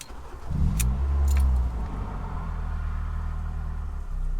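A car engine cranks and catches with a loud low rumble, then settles into a steady idle, with a faint jingle of keys at the start.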